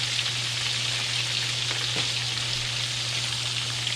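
Breaded pork chop frying in hot oil, a steady dense sizzle with fine crackling running throughout, close and even, with no voices.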